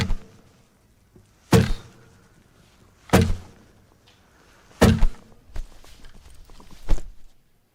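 Four sharp strummed guitar hits stand in for gunshots in a song about a police shooting, each a loud percussive burst spaced about a second and a half apart, with a softer strum rustling between the last two.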